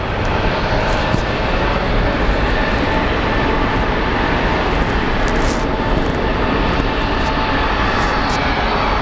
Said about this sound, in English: We have a Southwest crossing the runway.